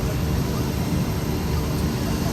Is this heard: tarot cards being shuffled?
no